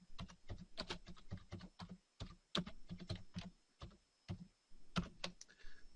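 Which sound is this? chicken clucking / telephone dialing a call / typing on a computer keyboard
typing on a computer keyboard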